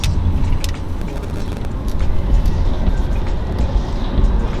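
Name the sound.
road traffic with buses and cars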